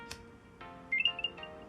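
Apple AirTag chiming on startup after its battery tab is pulled, a short series of soft, clear electronic tones rising briefly and ringing out close by in a quiet room.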